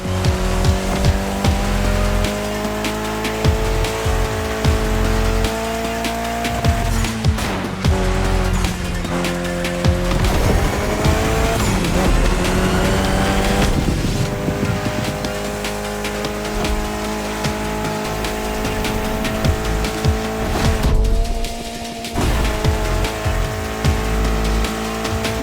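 Race cars in The Crew Motorfest roar and rev loudly and continuously, with engine pitch sweeping up and down through gear changes and tire squeals and skids breaking in over the racket, no voices.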